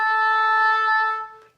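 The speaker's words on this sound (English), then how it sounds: "Okay, two fingers is called A, and it goes like this." An oboe holds the note A, played with two fingers, as a bright, nasal tone sustained for just over a second before fading, close by and unaccompanied.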